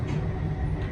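Inside a moving train, a continuous low rumble and rolling mechanical drone fill the carriage at a steady level.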